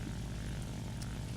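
The propeller engine of an Fw 190A-5 fighter drones in flight in a video game, a steady loud low rumble with a dense buzzing roar that never lets up, with no voices.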